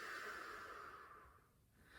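One long open-mouth exhale during a yoga breathing exercise, soft and breathy, fading out after about a second and a half with nothing else heard.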